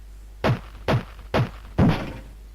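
A door is hacked open in the PC adventure game 5 Days A Stranger: four hard, evenly spaced thunks strike wood about half a second apart, with the last blow heavier and ringing out longer.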